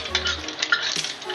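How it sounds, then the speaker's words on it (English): An egg fries in hot oil while being basted, giving a soft, steady sizzle with light scraping and stirring of a utensil in the pan. The sound is close and quiet, with no talking. "you got to make sure to baste the egg with the oil to let the entire thing fry"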